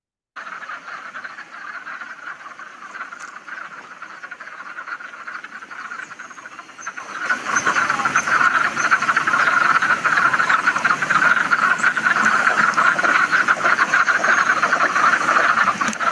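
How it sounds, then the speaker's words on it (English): Many male frogs croak together around a female during mating, a dense, continuous chorus that grows much louder and fuller halfway through and keeps going without pause. "Let us see this video of frog mating."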